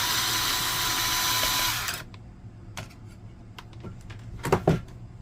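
A power driver whirs steadily while removing a screw from an HP Laserjet P1102w printer, then cuts out, followed by scattered clicks and plastic knocks at close range.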